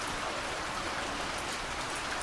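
Steady gentle rain falls without pause, a dense, even hiss of drops with no breaks or voices.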